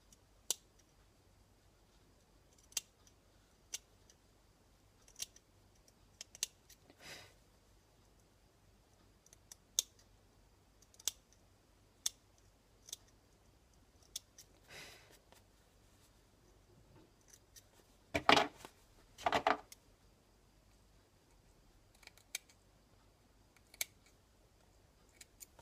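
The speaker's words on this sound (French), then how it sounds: "je vais venir recouper le surplus du marron là qu'on voit bien au bord" Scissors snip away excess brown fabric around a knee patch on damaged trousers, in sparse, irregular sharp clicks across a quiet room, with a quick pair of louder cuts near the end.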